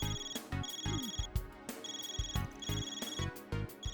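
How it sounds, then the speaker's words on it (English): A phone ringtone from the video game Trails Through Daybreak II, chiming in repeated bursts with a steady rhythm over a busy musical backdrop, loud and prominent throughout. "Actually, it's just a spam phone call with really great timing."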